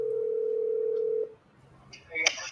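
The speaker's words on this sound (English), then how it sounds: "You hear the phone ringing?" A telephone gives a long steady ringing tone that stops partway through, followed by a short burst of clicks and beeps, fairly close and alone without talk.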